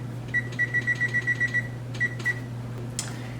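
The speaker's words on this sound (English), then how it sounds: "get my oven preheating to 400" An oven control panel gives a series of short, evenly spaced electronic beeps while preheat is set to 400, followed by a pause and a few more beeps, all close and clear over a steady low hum.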